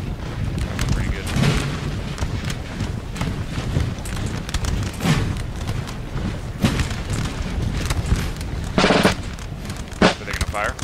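Cannon booms and crackling musket volleys ring out across a Napoleonic battlefield in Napoleon Total War, France against England, Austria and Prussia, with scattered rolling bursts under someone talking.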